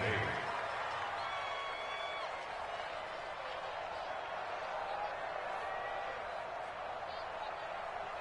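A crowd in a Madden football video game roars steadily and loudly, a dense continuous wash of cheering under a commentator's voice as a big third down approaches.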